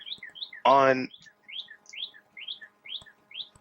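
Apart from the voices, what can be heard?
bird chirping outside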